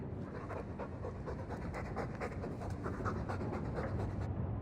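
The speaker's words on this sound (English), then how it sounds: "All that noisy dog breath, day in, day out, make him stop." A dog in the video game Dragon Age 2 pants steadily and close up, its quick, rhythmic breaths running unbroken throughout with no talking.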